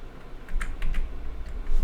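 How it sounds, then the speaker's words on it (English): A PowerPoint typewriter text animation plays a quick series of crisp key clacks in short bursts, close and clear with no talking. "We have our typewriter effect."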